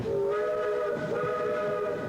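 Sustained tonal whistle or horn of a train arriving at a São Paulo station from the Port of Santos, steady and fairly close over faint background rumble.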